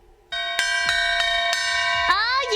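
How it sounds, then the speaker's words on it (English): A gong struck for a gifted subscription gives a loud, close metallic ring with several sharp hits layered over its sustained shimmering tone, ending with a bending, wavering swell. "Here comes the gifted gong."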